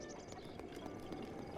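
Horse hooves clip-clopping in the Kakariko village area of Zelda: Breath of the Wild, a steady stream of soft thuds set against a low ambient bed, quiet and moderately distant.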